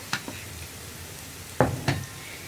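Crushed dried red chili being stirred into hot oil with onion and curry leaves: a few short, sharp scrapes and sizzle bursts spaced apart over a quiet, steady low background.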